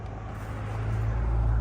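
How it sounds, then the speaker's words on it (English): Steady road traffic flows past a walking path at Rouge National Urban Park, a continuous low rumble that swells gradually louder over a brief moment, with no distinct single passes standing out. "you could hear steady flows of traffic"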